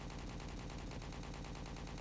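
Rapid automatic gunfire in the video game Road to Vostok rattles continuously in a dense, even stream of shots, loud and close throughout.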